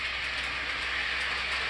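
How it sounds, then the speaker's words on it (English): A model train runs along the main line heading north, giving a steady, even rolling rumble with faint clickety-clack at close range, no voices. "the train entered the main line north, and as you can see, it stopped."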